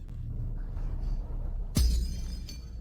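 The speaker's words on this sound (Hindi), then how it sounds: "मेरा कीमती कांच का प्याला।" A precious glass cup smashes on a hard floor, one sudden crash with a bright spray of shards and a low thud, loud against a quiet rumbling background, with a couple of faint tinkles trailing after.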